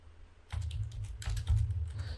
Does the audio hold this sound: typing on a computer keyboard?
yes